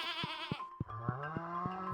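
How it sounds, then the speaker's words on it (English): Baby goat bleating in the farming game Stardew Valley, a short series of close, clear game bleats repeating in quick succession. "We have a baby goat"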